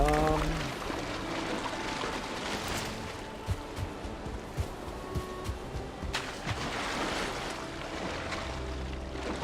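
Ocean surf in the Valheim game churns and splashes loudly. Uneven bursts of water and wind rise and fall over several seconds, with faint in-game tones at the start.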